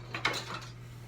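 Honey, butter, sugar, eggs and salt being mashed together in a bowl for banana muffins: a few quick, close utensil clinks and scrapes against the bowl, with a sharper knock in the middle, then quieter stirring.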